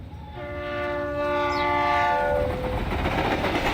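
A train in the Reverse: 1999 game, bound for Vienna, sounds a long chorded horn over a steady rumble of rolling wheels, the horn fading out after a couple of seconds while the clattering rumble carries on.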